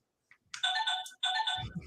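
A phone ringtone plays two short bursts of bright melodic tones for an incoming call, with a brief gap between them and a low thump at the end.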